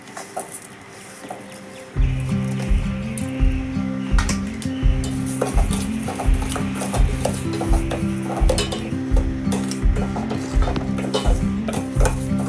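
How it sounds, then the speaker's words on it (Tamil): Moong dal roasts in a pan with repeated, rhythmic scraping and stirring strokes of a spatula against the metal over a soft sizzle, close and clear with no talking. "அதுக்கப்புறம் பாசிப்பருப்பு போட்டு வறுத்து விட்டுக்கலாம்"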